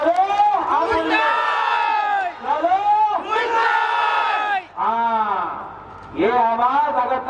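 A political election rally crowd in Tripura chants and shouts slogans in unison, loud and near, in repeated rhythmic bursts with short pauses between them.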